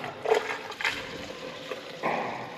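Liquid paint pours from a container into a bucket in a couple of short splashing bursts, close and fairly quiet, with the stream gurgling and spattering as it lands, near a Dresser IH TD20E dozer.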